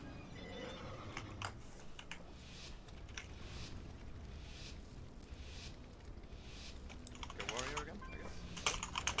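Loud, fast clacking of a computer keyboard being typed on continuously, close and dense throughout, with faint game sounds in the background.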